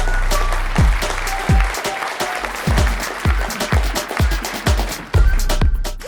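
A talk show audience applauds and cheers to welcome a guest on Kelowna After Dark, loud and sustained clapping with whoops and sharp peaks, continuing without pause.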